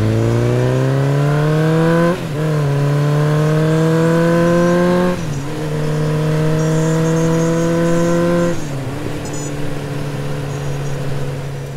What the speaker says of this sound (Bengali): আজকে আমি যাচ্ছি আমার বাইকটা নিয়ে একটু সার্ভিস সেন্টারের দিকে